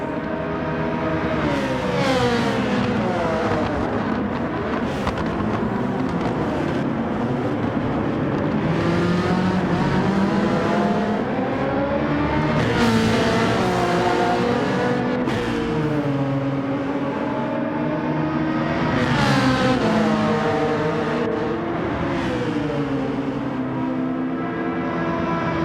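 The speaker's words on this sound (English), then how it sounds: "The Citroen's fast in a straight line though." Citroen race car in Gran Turismo 7 racing at Yas Marina, a loud continuous engine note climbing through the revs with repeated gear shifts, no voices.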